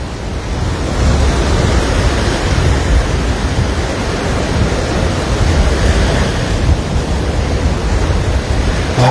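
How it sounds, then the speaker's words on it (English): Ocean waves break and surge up onto Waikiki beach during a rain storm, a loud, continuous roar of surf and rushing water with wind noise buffeting the microphone, with no talking. "the waves are coming way up and hitting here to wash sand up to here"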